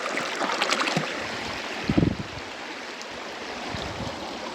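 Cold, clear mountain stream water on the Pangarchulla trek, a continuous close rushing babble while a bottle is filled, with a brief louder splash and gurgle around the two-second mark.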